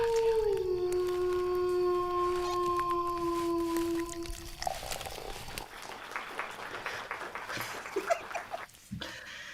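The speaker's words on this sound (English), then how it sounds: "Ryan lost me with the first wolf sound" A wolf howl sound effect on a podcast, a long sustained rising-and-falling wail lasting about four seconds, followed by a noisier stretch of muffled sounds and rustle.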